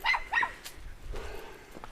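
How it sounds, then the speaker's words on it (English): Frida, a small dog, gives two quick high yappy barks up close, followed by quieter shuffling and faint whimpering sounds. "She does bark"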